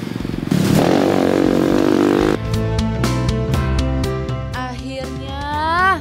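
Dirt-bike motorcycle on a rural road, engine clattering at first and then revving steadily with rising pitch, loud and close, no talk.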